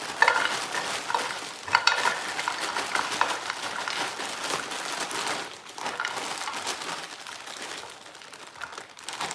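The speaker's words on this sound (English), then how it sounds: "And all that clunking that you hear is because this is frozen." Frozen broccoli in a skillet, pieces clattering and rattling against the pan with crackly sizzle as they are stirred, a steady close rustling clunk that continues throughout without talk.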